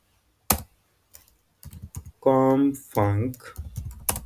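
Keyboard typing on a computer while coding, a few quick key clicks interspersed with someone talking close by.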